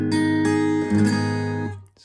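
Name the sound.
guitar chord barred across the 2nd fret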